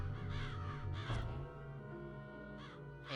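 Crows caw in the Psychonauts video game, two bursts of hoarse calls near the start and end set over continuous, layered game music.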